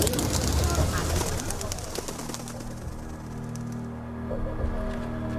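A pigeon coos softly against a dense, busy background with some flapping and other noise, the calls low and blurred in the mix.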